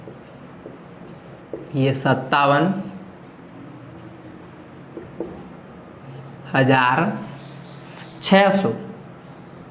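Numbers are written on a board in a maths class, with a few short scratchy strokes heard under a man's speech.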